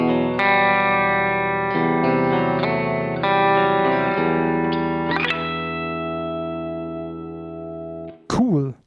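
Electric guitar with bridge humbucker played clean through a Palmer Eins amp, sustained chords ringing with rich harmonics and a few changes, then fading before a short bright squeal and pluck at the end, alone without talk.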